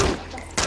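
A burst of gunfire during a film firefight erupts, a loud dense crackle that thins into a lower rumble before a fresh volley cuts in.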